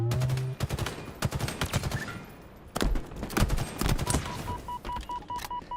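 Rapid bursts of gunfire crack and rattle through a ranked match gunfight in a competitive shooter game, with repeated volleys and single shots spread across the clip, loud and close, and no voices.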